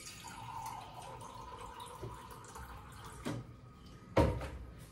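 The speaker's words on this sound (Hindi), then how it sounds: "अब इसमें मैं पानी डालूंगी" Water pours into a thick gram flour (besan) batter in a home kitchen, a running splash that swells briefly near the end, with small clinks of a bowl or utensil.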